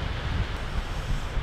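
Steady wind blows across an open sandy beach, a continuous low rumbling roar buffeting the microphone with no voices present.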